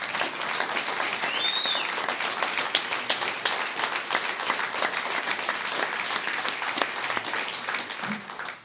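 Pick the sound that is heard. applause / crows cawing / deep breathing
applause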